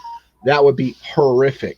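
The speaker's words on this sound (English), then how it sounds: "sorry about the phone going off" A phone notification tone sounds briefly at the start, a short clear beep that is quickly followed by a voice talking close to the microphone.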